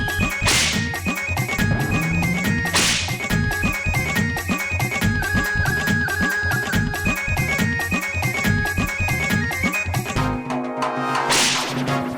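Sharp whip cracks snap out twice near the start and again near the end, each a bright, sudden burst over a loud, busy musical score with rhythmic percussion.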